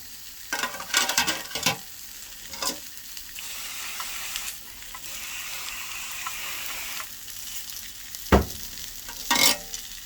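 Dried fish sizzling and frying in a pan, a steady hiss throughout with occasional sharp scrapes and clatters as it is stirred, fairly close and alone without talk.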